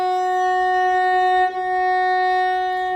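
A single sustained bowed F sharp on the D string, steady and rich in overtones, held for a few seconds with a brief wobble midway.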